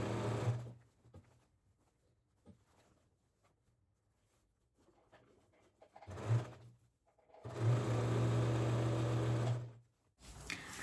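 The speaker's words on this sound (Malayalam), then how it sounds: "നമ്മൾ ഇവിടുന്ന് ഇതിലെ സ്റ്റിച്ച് ചെയ്ത് വരികയാണ് ചെയ്യുന്നത്" A sewing machine stitching fabric in two bursts, a brief one then a longer steady run of close mechanical whirring, separated by near silence.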